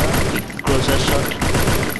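Rapid bursts of automatic gunfire from a Free Fire battle, loud and close, in two dense volleys separated by a short pause, with a voice talking over them.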